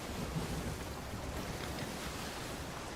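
A stormy sea roars in the Sea of Thieves pirate game: steady rumbling wind, rain and surf wash together as a dense, even wall of noise with no distinct cracks, and no voices.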